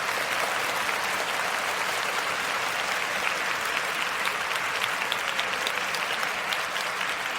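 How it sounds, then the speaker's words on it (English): Steady, dense applause from an audience at a recorded quiz show about 1970s television, a continuous wash of many clapping hands sustained evenly throughout without any talk. "I said, I think it deserves some applause."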